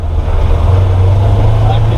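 A 2019 Polaris XP900 side-by-side drives along with a steady, loud low engine drone and continuous rumble, close and unbroken, with wind noise over it.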